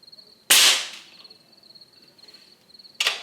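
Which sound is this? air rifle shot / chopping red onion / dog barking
air rifle shot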